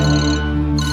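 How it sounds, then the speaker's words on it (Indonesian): A hostage's mobile phone ringing in a film, a loud, steady electronic ringtone with sustained tones that shift partway through, heard alone without voices. "sebuah handphone dari salah satu sandera pun berdering"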